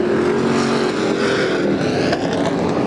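IMCA stock cars thunder around a dirt track at a Sunday race in Adelanto, California, a dense, loud, continuous engine roar from several cars passing through the turn.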